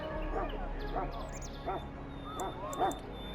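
A Mabari warhound in the game Dragon Age Origins gives a run of about five short, yipping barks at a steady pace, moderately loud over a low background hum.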